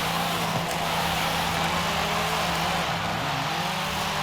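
Steady engine drone from a 2010 Renault Megane RS 250 with an AWD drift tune as it slides smoothly, holding an even note throughout with no talking.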